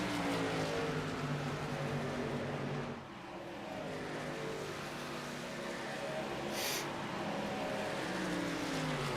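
Racing trucks in a video game roaring past and pulling into pit lane at Auto Club, a steady engine drone with a brief dip and a passing sweep, heard at moderate distance with a low commentator voice faintly underneath.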